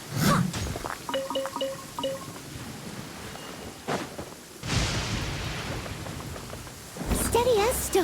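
Storm in Genshin Impact with rain and thunder: bursts of rain hiss and rumbling thunder swells between snatches of chiming game music and a brief voice.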